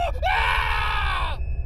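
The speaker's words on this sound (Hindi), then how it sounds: "पूरे अस्पताल ने निखिल की दर्द भरी चीख सुनी" A man lets out a loud, sustained pained scream lasting over a second, a harsh strained cry that cuts off abruptly, in a haunted-hospital horror setting.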